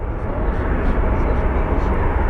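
A jet airplane roars as it takes off at Phoenix Sky Harbor International Airport, a steady, loud engine rush filling the whole stretch, with someone talking over it.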